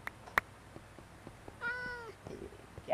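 A cat meows in the Minecraft video game, one drawn-out, wavering call in the middle with a short chirp near the start and a faint one at the end, fairly quiet over low game ambience.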